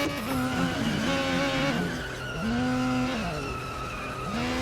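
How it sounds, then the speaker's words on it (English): Tyres squealing as a Formula 1 car slides with no grip at the British Grand Prix in the F1 2020 video game, a loud sustained screech over the engine note, swooping up and down in pitch. "Now, watch how far you can slide with no grip."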